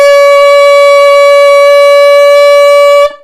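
An alto saxophone holds a single higher B flat as one steady, loud, bright note for about three seconds before it stops cleanly, with no talking.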